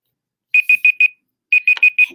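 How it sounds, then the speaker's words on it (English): A timer alarm beeps in two quick bursts of four sharp, high electronic tones, loud and close, with a short silence between the bursts. "And my timer went off."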